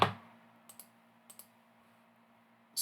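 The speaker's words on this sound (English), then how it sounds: "sorry, I'm like clicking way too much here" A few light mouse clicks at a computer, spaced apart in quick pairs against a quiet room, then a louder rustle at the end.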